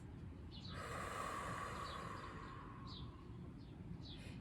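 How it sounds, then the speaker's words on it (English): A soft, faint exhale through the mouth during a meditation breathing exercise, one long smooth breath of airy hiss lasting a couple of seconds in a quiet room. "Exhale mouth."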